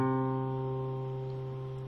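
A single sustained guitar note on the fifth string at the third fret rings clearly and close, slowly fading with no other sounds.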